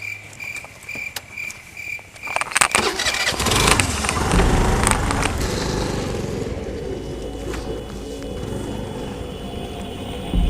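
A scooter engine starting: a few clicks and rattles, then the motor catches and settles into a steady, loud idle hum that runs to the end, with a faint high insect-like chirp early on and no speech.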